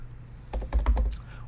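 A short, quick burst of keystrokes on a computer keyboard, close and fairly crisp, over a faint low hum.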